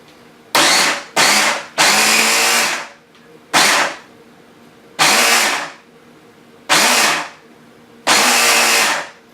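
A food processor whirs in seven loud bursts of varying length, each starting abruptly and cutting off, as it mixes a keto bread batter with short quiet pauses between pulses.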